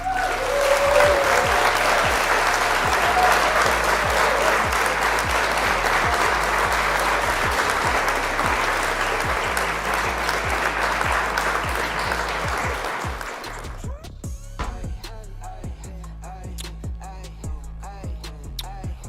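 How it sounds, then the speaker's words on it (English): Sustained, dense applause from a large crowd fills the first thirteen seconds at a steady loud level, then cuts off abruptly into scattered, thinner clapping and clicks. "I'm gonna give myself a round of applause."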